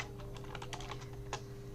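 Quick run of computer keyboard key presses during Ctrl shortcut use in Photoshop, a dozen or so light, close clicks tapping in an uneven rhythm with no talk.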